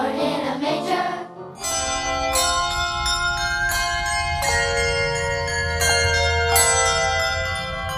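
Handbells rung by the bell ringers of Buncombe Street United Methodist church during the Christmas season, sustained sparkling chimes struck in a steady succession of notes that ring and overlap, fairly loud and clear with no talking.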